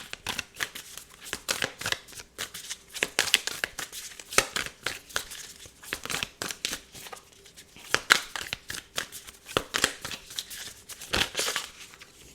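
Spirit animal tarot cards shuffled by hand in a steady run of quick riffling, flicking bursts, close and fairly loud, with brief gaps between the rustling strokes.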